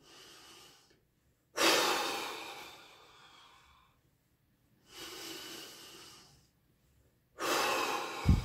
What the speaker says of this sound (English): take a nice big inhale and a nice big exhale, like sort of make a point of lengthening your exhale